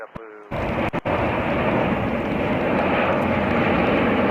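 Mitsubishi CRJ 900LR jet airliner, 14 years old, landing at JFK airport: a loud, steady broadband engine roar that starts abruptly after a brief quiet moment and holds at full strength.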